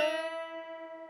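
A single electric guitar note bent up with the ring finger at the 7th fret on the third string, ringing out clearly and sustaining alone as it slowly fades.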